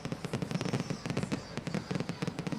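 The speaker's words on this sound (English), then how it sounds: "Still getting all those fireworks behind me." Outdoor fireworks set off during an evening celebration of the American president-elect, a dense, rapid volley of crackling pops and bangs, loud and continuous throughout the short stretch.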